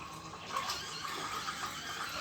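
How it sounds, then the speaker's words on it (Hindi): Water runs steadily from the outlet pipe of an RO water purifier during servicing, a continuous broadband gushing stream like a tap filling a basin, fairly loud and alone with no voices. "अब इसका जो पाइप है इधर से पानी आएगा"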